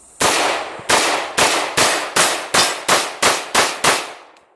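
AR-15 rifle firing a rapid string of about nine loud, sharp gunshots in quick succession, each crack followed by a short decay, close and alone without talk.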